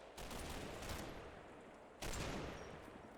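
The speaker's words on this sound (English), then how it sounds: "I've walked my mortar barrage along fire line 1" Mortar barrage in the Combat Mission war game: two distant bursts of rumbling explosions about two seconds apart, each trailing into a crackling, scattered decay, faint and without talk.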